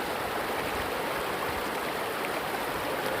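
Steady broadband rush of the stream at Huai Nam Khiao in Xaisomboun, water flowing continuously and close by, loud and unbroken with no voices.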